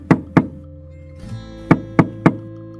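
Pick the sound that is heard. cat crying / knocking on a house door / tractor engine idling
knocking on a house door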